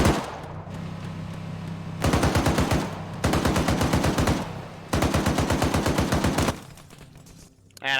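Automatic weapon fire in the Arma 3 military shooter comes in three loud, rapid bursts of roughly a second each, separated by short pauses, with a faint background hum between them.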